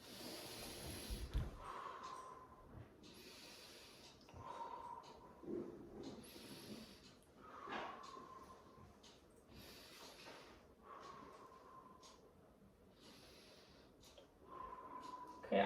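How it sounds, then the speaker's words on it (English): A patient breathing deeply for a lung check during a nursing head-to-toe assessment, faint, slow inhales and exhales recurring about every few seconds in a quiet room. "can you please just take a big deep breath in?"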